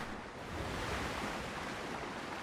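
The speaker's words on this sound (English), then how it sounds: "These waves are getting a little rough." Rough ocean waves in the pirate sailing game Windrose surge as a steady, dense wash of surf and wind, continuous and fairly loud with no pauses, and no voices present.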